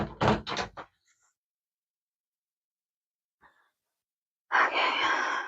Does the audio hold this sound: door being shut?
yes